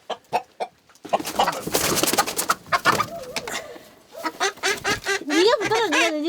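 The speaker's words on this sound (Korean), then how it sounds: "닭을 잡으실 모양입니다." Chickens cluck and squawk nearby at a backyard coop in a flurry of overlapping calls, with people talking in between and over the birds.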